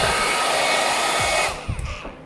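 An ITeracare Premium device blows hot air with a loud, steady whoosh at close range that cuts off after about a second and a half, followed by a few handling knocks.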